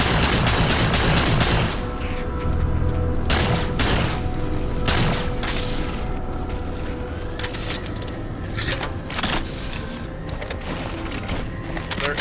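Rapid bursts of Saw machine gun fire from Halo 4 crackle over a dense, loud battle bed, with repeated sharp volleys across the stretch.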